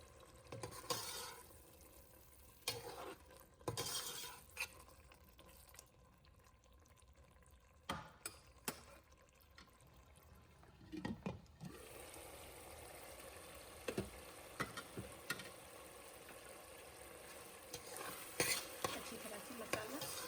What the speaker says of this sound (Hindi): और अच्छी तरह इसको भून लेंगे और उस वक्त तक पकाएंगे जब तक ये पूरे टमाटर अच्छी तरह से गल जाएं